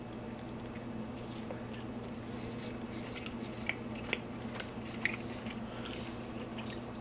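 A bite of a rolled vegan taco burrito made with TVP is chewed quietly up close. Soft, moist chewing carries a few small crisp clicks over a faint low background hum.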